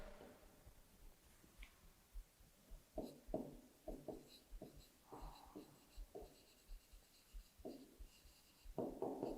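Hand-written four-digit number being set down during a primary-school maths lesson: soft, scratchy strokes in short separate bursts, close and quiet, with faint low voice murmurs between them.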